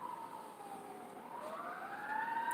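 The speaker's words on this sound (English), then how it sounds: "Oh, we have a fire engine." A fire engine siren wails somewhere off in the distance, its rising and falling tone growing slowly louder over steady background noise.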